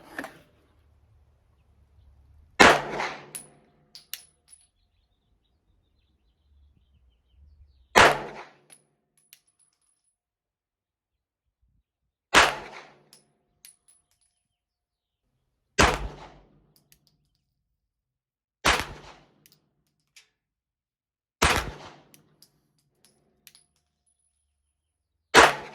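Six sharp, loud Glock pistol shots fitted with a Bear Creek Arsenal replacement barrel ring out at a 25-yard range, spaced several seconds apart with silence between each crack.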